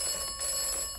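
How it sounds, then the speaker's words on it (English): A telephone ringing in the video game Atomfall, a bright sustained electronic bell tone heard alone in a brief burst. "Do we have a phone call?"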